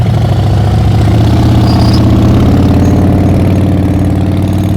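Bruce's motorcycle is heard during an advanced slow-speed riding practice exercise, its engine idling with a close, steady, loud putter of low rumbling pulses throughout.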